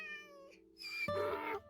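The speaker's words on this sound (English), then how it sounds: "You're such a beautiful cat." A cat meows in Minecraft, a short tonal cry, then a second louder, brighter meow, both clear and close with no talk over them.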